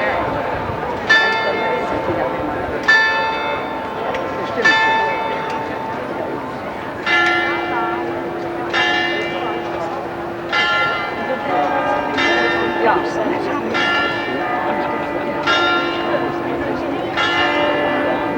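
Church bells ring out in a series of repeated chimes, some struck strikes spaced a second or two apart and others overlapping with a long sustained hum beneath, heard outdoors with faint voices and background noise.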